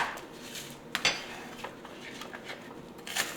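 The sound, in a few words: knife dicing onion on a cutting board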